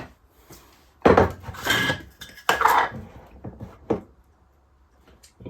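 A flan dish is handled in a kitchen, with a few close clattering knocks and scrapes of the dish against a surface, separated by short quiet gaps.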